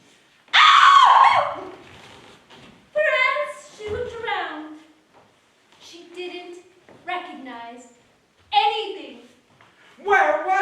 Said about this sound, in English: And the queen awoke. and screamed.